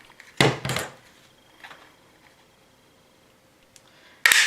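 Paper being cut with a few sharp close snips to make a notch for a handmade Christmas mini album, short crisp bursts separated by near silence.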